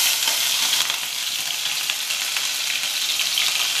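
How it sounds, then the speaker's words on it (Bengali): Nigella seeds with dried and green chillies sputtering in hot oil, a loud, close, continuous crackling sizzle with faint stirring touches and no voices. "এইখানে দেখুন আমার তেল গরম হয়ে গেছে, কালো জিরে দিয়ে দিলাম, দুটো শুকনো লঙ্কা, কাঁচা লঙ্কা দিয়ে দিলাম"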